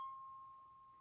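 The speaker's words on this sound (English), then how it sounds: "So C right here sounds like this" A single C note struck on a toy piano, a pure, thin tone that rings briefly and fades quietly in the near field.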